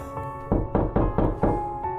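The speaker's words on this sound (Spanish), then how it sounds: "alguien o algo golpeó la puerta principal" Five heavy knocks on a front door at a steady, deliberate pace, close and resonant with a dull wooden thud, over a low sustained drone in a horror story.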